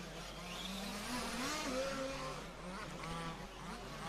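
The number 3 short-course off-road racing truck at the EFRA LSOR Euros 2022 final, its high-pitched engine whining and revving up and down as it races past, with other trucks buzzing in the background.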